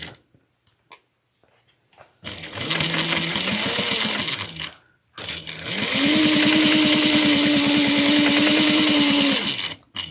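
A sewing machine stitches across a clutch wallet in two sustained runs, a short burst and then a longer, louder one with a steady motor whine and rapid needle chatter, and a brief pause falls between them.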